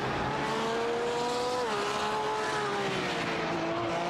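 Simulated GT race car at Circuit de Spa-Francorchamps weaving through the hairpin, a steady engine drone shifting pitch as it slides sideways, with faint tire noise, continuous and fairly close.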